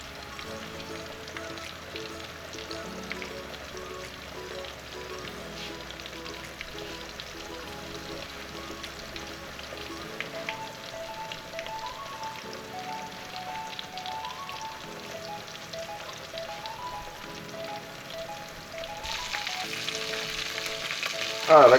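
Pork chops browning in a hot pan for brown stew pork, giving a steady, dense sizzle and crackle throughout, with a brief louder flare of frying at the very end and no talking.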